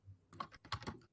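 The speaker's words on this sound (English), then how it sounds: "I am typing." Computer keyboard typing during a tabletop role-playing session, a quiet run of quick, irregular key clicks in a few short bursts with no talk.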